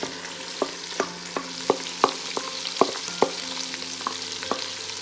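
Mashed cluster beans (gawar phali) with chillies frying in a pan, a steady low sizzle punctuated by regular sharp clacks of a spoon stirring against the pan, close and moderately loud with no talking.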